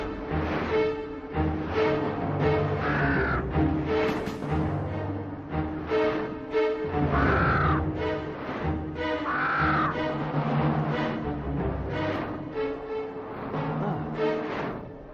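Crows caw repeatedly over dense music and ambient sound in an Indonesian folk drama, loud harmonic calls recurring through the scene rather than standing alone.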